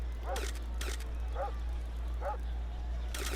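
A dog barks in the video game Wii Party, giving several short, bright yelps spaced roughly a second apart. Sharper clicks like camera shutters fall between them, all over a constant low electronic hum.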